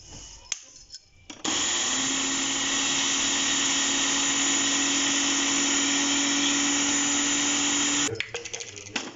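An electric grinder whirs loudly and steadily for several seconds, grinding coffee and sugar into powder, starting and stopping abruptly with rattling handling noises before and after.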